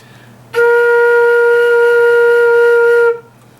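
One sustained flute note, a B flat, held steadily for about two and a half seconds, clear and loud, then stopping cleanly; no voices.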